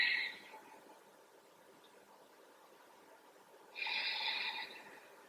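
Breathing during a yoga stretch, two soft breaths, one at the start and another a few seconds later, each a brief airy rush close to the microphone in a quiet room.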